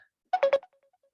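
A short electronic phone ringtone plays once, a quick run of three bright tonal bursts followed by a faint trailing beep pattern, fairly quiet and alone with no talk.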